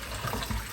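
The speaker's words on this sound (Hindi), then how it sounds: "अभी टैंकी चलाई है तो पानी इस तरह आना शुरू हो चुका है।" Water beginning to gush from a household tap after the tank pump is switched on, a short, continuous rushing splash with slight surges, close by and without talk.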